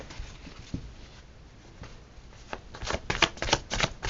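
Tarot cards are shuffled in a series of crisp riffling bursts, sparse at first and then quicker and louder toward the end, close up with no talking.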